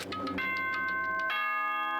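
A ding-dong announcement chime from the video game Danganronpa rings out as several bright tonal bell notes, the final tone sustaining and fading.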